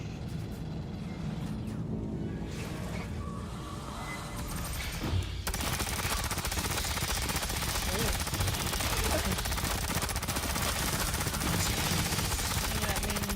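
Suppressive gunfire in the video game Aliens: Fireteam Elite, a dense, sustained fusillade of automatic weapon fire that erupts and continues loudly for several seconds amid game effects, with voices talking over it.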